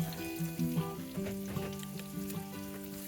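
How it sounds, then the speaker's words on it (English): Steak frying in a pan inside a tiny house, a soft continuous sizzle with light crackle, faint and steady throughout with no talking. "Out there you can see my steak is cooking"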